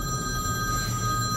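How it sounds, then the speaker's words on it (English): A telephone rings in an animated cartoon, a steady, fairly quiet electronic ring that sounds alone for over a second. "My spooky phone's ringing."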